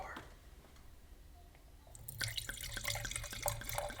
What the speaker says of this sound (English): ASMR pour.